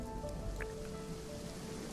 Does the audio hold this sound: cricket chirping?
no